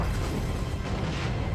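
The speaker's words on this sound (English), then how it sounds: "That's a hefty explosion." A hefty explosion from a Mandalorian episode, a dense low rumbling roar that fills the short stretch at steady loudness with no gaps.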